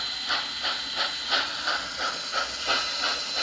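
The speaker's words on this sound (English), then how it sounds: "You can hear the chuffing." A Piko RC model steam locomotive, wheels lifted off the ground, runs with steady rhythmic chuffing: evenly spaced hissing puffs of simulated steam, close and moderately loud, with no talking.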